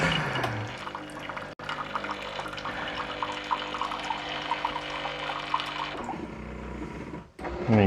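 Cecotec Cremmaet Tempo coffee machine drawing water on its first use, a steady pumping hum with gurgling water running for several seconds before cutting off, then restarting briefly.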